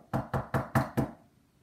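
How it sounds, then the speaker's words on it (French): Five evenly spaced knocks on a wooden door, close and clear, followed by a short quiet tail. "le loup qui l'avait suivie frappa à la porte"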